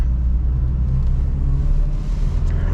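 A 1989 Toyota regular cab 4x4 pickup engine winds up steadily in second gear, a loud, close, continuous low rumble with no talk over it.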